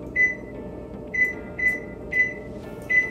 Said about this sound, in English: first I'm gonna preheat the oven to 350